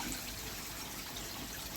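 Water dripping and trickling through drilled holes in a homemade pond shower over floating media, a steady, even spatter heard alone without a break.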